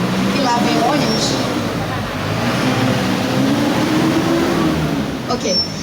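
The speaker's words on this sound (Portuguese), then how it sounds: "e lá vem ônibus" A bus passing on 16 de Novembro street among old mansions, a broad rumbling engine roar that rises and falls steadily for several seconds, loud and close, while a person speaks over it.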